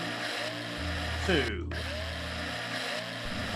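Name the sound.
drilling a tank in Breathedge video game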